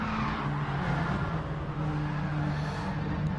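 Gran Turismo Sport Gr.4 race cars pile through the S-bends at Bathurst in a close pack, a steady dense drone of engines and tires with sustained tonal whine running throughout.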